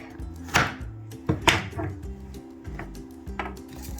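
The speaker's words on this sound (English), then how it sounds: "Then after, you crush the garlic." A knife crushes garlic on a cutting board in a home kitchen, giving a few sharp, close thumps and presses over a low steady background hum.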